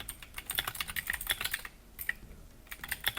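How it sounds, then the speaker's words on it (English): Fingers type rapidly on a clicky keyboard, crisp close keystrokes in quick irregular bursts with a brief pause midway. "I like my clicky keyboard"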